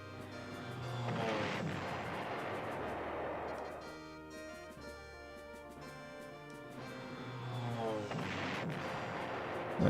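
Artillery-like gunfire from the PlayStation 1 strategy game Panzer General blasts at an air unit in two heavy rumbling bursts, one near the start and one near the end, with a low droning tone between them.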